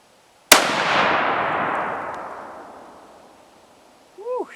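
A single sharp, loud report from a Remington 700 SPS rifle chambered in .308 Winchester fired outdoors, with a long rolling echo decaying over several seconds before a brief voice is heard.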